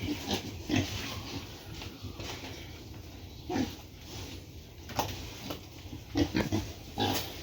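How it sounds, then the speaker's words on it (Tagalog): Thirty-six-day-old piglets on a farm grunt and snuffle in short, irregular bursts, several close by, with a continuous rustling background. "ito na po yung ating mga biik"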